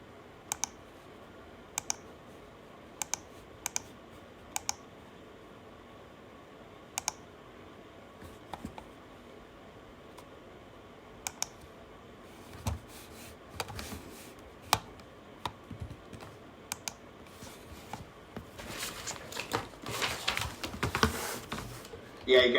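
Keys tap on a computer keyboard as code is typed during a technical interview, faint sparse clicks in short clusters that grow into a denser flurry toward the end.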